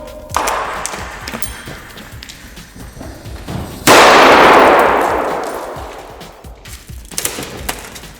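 An RGS-4 airsoft grenade by Strikeart bursts on a computer monitor with one loud, close blast whose hissing tail fades over several seconds, after a lighter clack earlier and some small knocks and rattles afterward.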